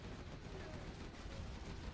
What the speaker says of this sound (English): Gatling cannons gunning down more quads.